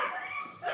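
A dog gives a single drawn-out bark or yelp lasting under a second, fairly close and clear.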